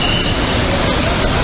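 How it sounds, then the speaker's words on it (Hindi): Vehicles in a convoy pull away along a road in Meghalaya, their steady traffic rumble filling the scene continuously at close range. "और ये देखिए गाड़ियां निकल रही हैं"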